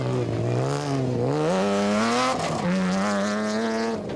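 The Regent Racing Nissan Navara race truck at the Sun City 400 desert race, its engine droning loud and steady with rising and falling revs as it shifts gears, alone without talk.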